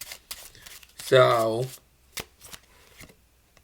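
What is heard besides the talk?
playing cards being given a false overhand shuffle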